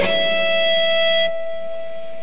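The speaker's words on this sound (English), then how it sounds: "But now we have a pinched harmonic above the 5th fret of string G." Distorted electric guitar in drop D playing a part: a sustained pinched harmonic rings loud and bright with a steady high squeal, then cuts off abruptly, leaving a fainter tone behind.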